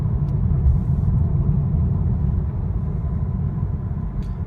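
BMW 330e plug-in hybrid running on its gas engine, a steady low rumble heard from inside the car, loud and continuous with no talking.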